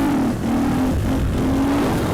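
A Husqvarna 501 FE supermoto's single-cylinder engine pulls hard in fourth gear with a steady, loud, droning hum and a slightly rising pitch, close to the microphone and continuous.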